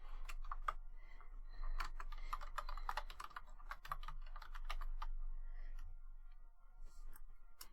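Rapid, uneven typing on a computer keyboard, close and fairly quiet, with bursts of clicky keystrokes and short pauses over a low steady hum.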